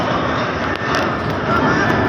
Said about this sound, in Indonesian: apakah pesawat ini nggak bisa dialihkan penerbangannya?